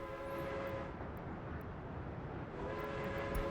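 A video game locomotive and its wagons roll along with a steady mechanical rumble and some clanking, and a brief horn-like tone sounds near the start.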